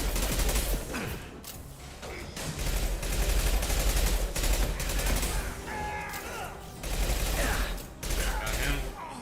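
Bursts of sci-fi gunfire in Mass Effect 2, rapid volleys and single sharp shots rattling in uneven clusters over a dense combat soundscape, loud and close throughout.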